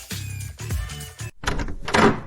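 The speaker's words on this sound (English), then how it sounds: "Sheila opens the door and meets face-to-face with creepy rats" A door opens with a couple of close wooden thunks and a creak, short and fairly loud, with nothing else around it.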